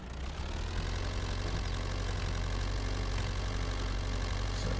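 A tractor engine idles in Farming Simulator 22, a steady low rumble with a mid-range drone holding constant and close for several seconds, no talk.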